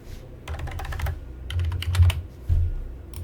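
Typing on a computer keyboard in quick clustered bursts of key clicks with short pauses between them, close and clear, with no one speaking.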